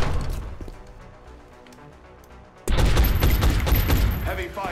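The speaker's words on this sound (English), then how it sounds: "Heavy fire near my location." Burst of heavy gunfire in the XCOM Enemy Within strategy game erupts suddenly partway through, loud and dense, after a quieter stretch of game ambience with faint talk.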